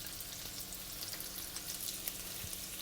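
Sliced red onion and thinly sliced deseeded red chilli sizzle in a pan over medium heat, a soft, steady crackle with scattered pops and no voices.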